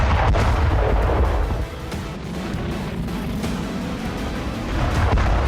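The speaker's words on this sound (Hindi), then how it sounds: "ये है रूस का ग्लाइडर बम" Russian glider bomb blasts in a war zone, a dense continuous rumble of heavy detonations with sharp cracks on top, loud and sustained, dipping slightly midway before swelling again.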